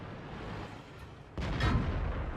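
A heavy tank shell slams into and bounces off armor in World of Tanks, a sudden loud impact boom over a rumbling battlefield with artillery landing nearby, no talk.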